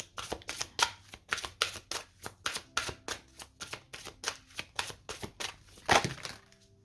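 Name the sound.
shuffling tarot cards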